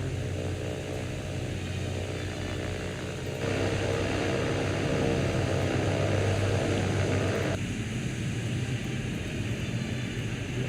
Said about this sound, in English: There it is again, we got an enemy scout plane.